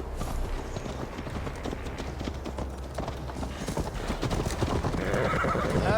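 Horse hooves clop at a steady riding pace in Assassin's Creed Valhalla, a rapid, continuous patter with a whinny mixed in and a rising rush of movement toward the end.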